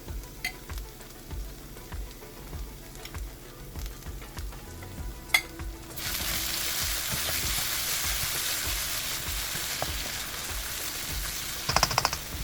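Chili paste and homemade chili oil fry in a pan, first with soft stirring and scraping, then a loud, steady sizzle that bursts up around the six-second mark and holds, with a few sharp crackles near the end.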